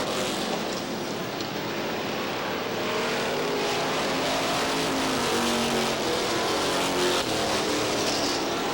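NASCAR Modified race cars roar around the Star Speedway oval during the 1990 Winston 150, a loud, continuous engine drone with shifting pitch as the pack passes close by.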